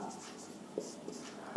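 Chalk or marker scratches across a board in short strokes during an optics lecture on diffraction at a circular aperture, faint and close, with a lecturer speaking at times.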